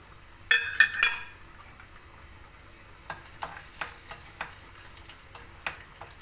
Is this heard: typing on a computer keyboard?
no